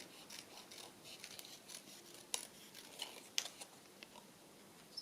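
Scissors snip through a paper collage cutout of a bird, trimming away extra leaves; a few sharp, faint clicks of the blades stand out over a quiet, rustling background.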